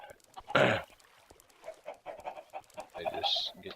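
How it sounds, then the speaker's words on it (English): Chickens on a Minecraft chicken farm cluck and squawk close by, with one loud burst early on and a scatter of quieter clucks afterward. "So we're at the chicken farm. They're going crazy."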